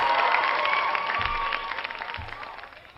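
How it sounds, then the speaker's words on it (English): A crowd claps and cheers for several seconds, dense and steady before slowly fading. "Clap it up again for another week of the Undecided live stream."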